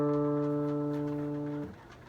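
Open D string on a guitar being tuned, a single plucked note that rings evenly for a second and a half and then is abruptly muted, heard alone.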